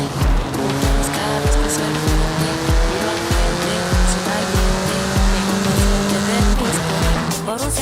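A road-legal track-focused sports car in Forza Horizon 5 revving hard through repeated gear shifts, engine note climbing and dropping while tires squeal, loud and close, with a faint voice under it.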